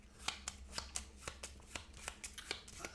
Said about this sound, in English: We shuffle up his deck.